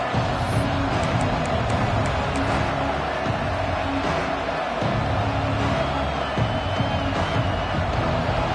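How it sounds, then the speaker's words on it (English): A football stadium crowd roars in a broad, continuous wash of cheering and noise, with a commentator's voice talking over it. "This crowd bringing the energy and noise early."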